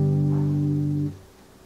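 Guitar chord held on the third fret, a single sustained strummed sound ringing steadily for about a second before being cut off abruptly, close and alone.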